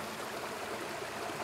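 Lantariri River flowing steadily past a village, a constant broadband rush of water close by with no pauses and no voices.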